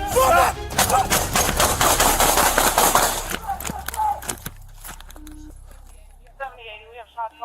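Gunfire in a police shootout: a rapid volley of loud sharp shots fills the first few seconds and then thins to scattered cracks. Shouting and radio-like voices mix in toward the end.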